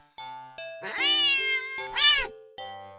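A cat in a video game meows repeatedly, with several drawn-out, strained calls that rise into a louder, more agitated cry near the end, clear and close with no talk.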